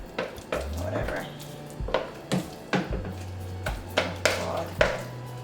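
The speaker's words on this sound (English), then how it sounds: "why am I using one of my storage bowls to mix?" A wooden stick knocks and scrapes against a storage bowl while vegan banana bread batter is mixed, producing a series of sharp, irregular clunks close by with occasional talking.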